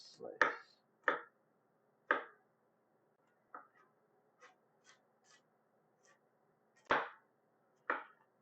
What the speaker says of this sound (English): And slice, slice, slice.